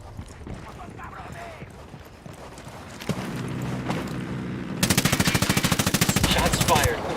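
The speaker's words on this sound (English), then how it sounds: "Shots fired. Unidad's engaging the cartel." Gunfire in Ghost Recon Wildlands as cartel enemies are engaged: a low rumble and a single shot, then a rapid sustained burst of automatic fire, loud and close.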